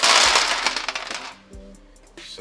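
A large handful of about twenty dice in an Age of Sigmar tabletop game clatters loudly onto a table, settling into scattered ticks and knocks, and then a few softer taps follow.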